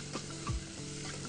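Chillies and coarsely chopped tomato sizzle in a frying pan while being stirred, a steady close crackle with a brief scraping stir near the middle.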